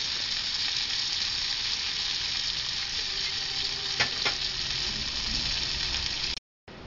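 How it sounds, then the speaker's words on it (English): Floured beef browns in hot shortening or bacon grease for a campfire stew, giving a steady, loud sizzle that runs unbroken for several seconds before cutting out briefly near the end. "I like to use shortening or bacon grease. And brown it up good."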